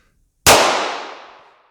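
A .45 fired from a weapon built to look like something other than a gun gives one sharp, loud, close report. It cuts out of silence and rings away in a long tail.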